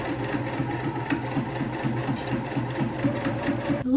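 A sewing machine runs steadily, stitching through a heavy beginner quilt with a fast, even mechanical chatter and a rhythmic low thump throughout, close and loud.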